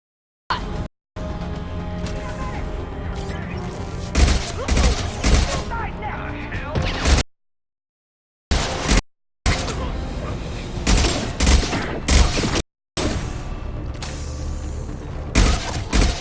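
Sci-fi weapons fire in the Mass Effect 2 video game, a battle against rogue mechs: sustained rapid bursts with brief silent gaps, loud and close. Mechanical creaks run through the shooting.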